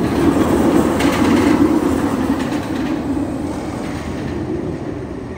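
A roller coaster train at Fun Spot America Atlanta rumbles steadily along its track, a loud continuous roar with faint rhythmic clatter and no voices.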